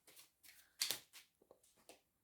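Oracle cards are shuffled and one last card is drawn from the deck, making several short papery riffles and slides in quick bursts, close and soft, with one brighter flick in the middle.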